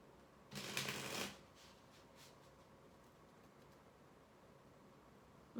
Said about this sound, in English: Let's get some more cards out here and see what else we get.